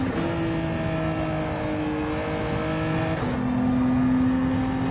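A race car engine in a racing video game on the Catalunya circuit holds a steady, buzzing drone, then climbs in pitch as the throttle opens, staying close and fairly loud with no voices over it.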